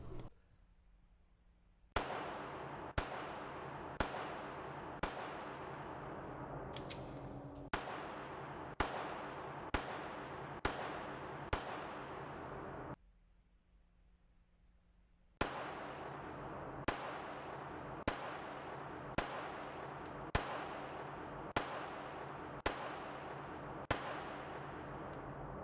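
A Sig P356 .380 pistol and a Ruger LCP Max fire at silhouette targets on an outdoor range. Sharp single shots crack out at a steady, roughly second-long rhythm in two strings separated by a short quiet break.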